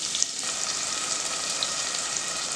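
Ground mint paste fries with well-browned onions in a pan, producing a continuous bright hissing sizzle with occasional small pops and no voices.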